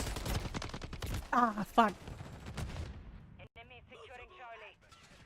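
Gunfire in Call of Duty MW3, rapid bursts of shots at close range, with a player speaking loudly over the shooting and a short exclamation near the end.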